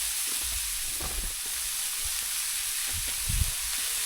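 Thin food sizzles on a hot outdoor grill at a national park campsite, a steady soft hiss broken by a few brief pops and clicks, alone without talk.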